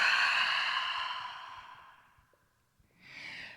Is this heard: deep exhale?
yes